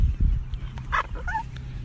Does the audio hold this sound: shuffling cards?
no